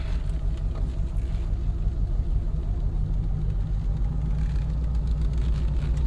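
A 1947 Cadillac Series 62 with a 350 modular flathead V8 pulls away in drive, a steady low engine rumble that stays loud and close throughout, without talking.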